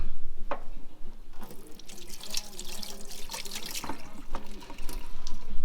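Tap water runs into a sink while a man wets his hands in a car engine bay cleanup setting, a steady close splashing stream with dripping and irregular bursts as hands pass through the flow.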